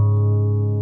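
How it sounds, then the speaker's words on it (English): Acoustic guitar note sounded by a ring-finger pull-off from the fourth fret of the A string, a single sustained tone ringing steadily and close for under a second with no talk. "your ring finger is placed on the A string fourth fret and then pulled off"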